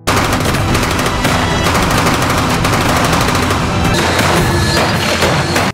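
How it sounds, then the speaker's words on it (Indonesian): Sustained, loud gunfire in a fierce shootout, with rapid machine-gun bursts and overlapping shots forming a dense, continuous barrage throughout, punctuated by heavier booming impacts. "Terjadi baku tembak yang sengit"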